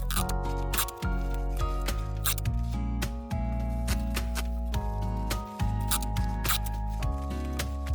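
Packing tape peeled from a roll on a lightweight, bouncy table while packing items to ship: repeated loud ripping, crackling strips with brief pauses between pulls, close and alone.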